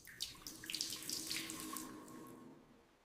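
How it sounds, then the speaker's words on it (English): Water runs steadily from a tap into a sink during face washing, a soft hissing splash with a few brief spatters, fading gradually near the end. "I am washing my face"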